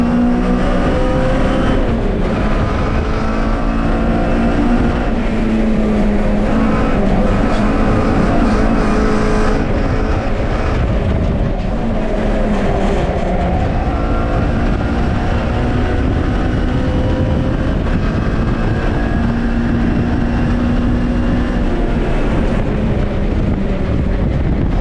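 A pack of 32 classic Mini race cars roars around the Brands Hatch Indy circuit, a dense, continuous wall of engine drone with wind buffeting the microphone and no pauses throughout.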